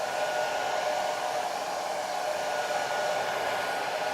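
A hair dryer runs close and steady on a watercolor painting, a continuous loud whirring blow with no breaks or talk.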